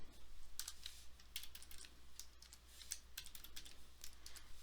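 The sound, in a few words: typing on a computer keyboard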